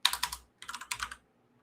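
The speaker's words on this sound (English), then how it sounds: "I'm typing it as you put it." Typing on a computer keyboard comes in two short bursts of quick, close key clicks separated by a brief pause, then silence, with no talk.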